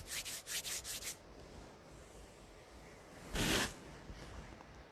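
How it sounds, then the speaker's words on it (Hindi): Both palms rubbed briskly together, a quick burst of several soft swishing strokes up close, then a pause and one longer faint rubbing swipe, with no talking. "अपनी दोनों हथेलियों को रगड़कर अपने मुखमंडल पर फेर लेंगे।"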